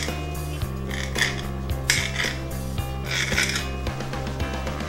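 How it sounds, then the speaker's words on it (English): A knife chopping jumbo black olives on a cutting board while making a Cajun meat pie: steady, fairly loud knocks and scrapes of the blade in a quick irregular rhythm, with no talking. "Now I'm going to chop up about 5 jumbo black olives."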